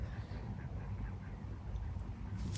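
Duck calls on a fishing lake, faint and distant over a steady low outdoor rumble, with no clear individual quacks standing out.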